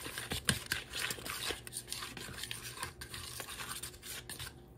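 Bisquick pancake batter mixed with milk being stirred in a bowl, a continuous run of soft scraping, tapping and wet sloshing strokes at close range, fairly quiet with no talking.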